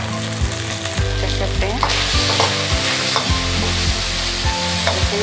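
Chicken frying in a pan for chow mein gives a loud, close sizzle broken by regular clanking stirs of a utensil against the pan; a brief spoken phrase sits over it.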